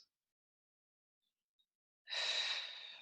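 Near, strong exhale of breath during a gentle exercise routine, rising suddenly after a quiet stretch and fading slowly over about a second.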